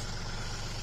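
Red RK farm tractor engine idling steadily, a loud close low rumble with a constant even throb and no talk.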